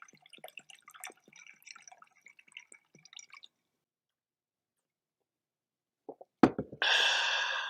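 Vodka is poured into a drink: scattered small drips and clinks, then a pause, then a bright, steady splashing pour that runs loudly to the end.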